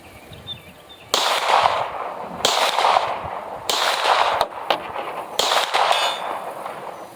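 Gunfire from a Tisas 2011 pistol with Winchester White Box ammunition at a range, five sharp reports in a steady rhythm, each followed by a ringing metallic clang of steel targets at 100 yards.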